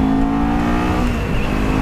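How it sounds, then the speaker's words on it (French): A Kawasaki Z400 motorcycle fitted with an Akrapovic exhaust accelerates, its loud, steady engine drone holding close and continuous with harmonics that shift slightly as revs change. "L'accélération est vraiment top, regardez."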